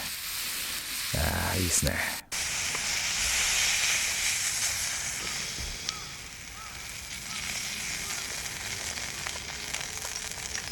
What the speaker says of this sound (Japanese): ちょっとサービスカットでいくつも肉焼けてるカットを用意してますんで